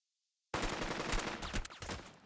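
Rapid burst of machine gun fire from an MG in the squad tactics game Burden of Command, starting abruptly and rattling on loud and dense for nearly two seconds with no talk.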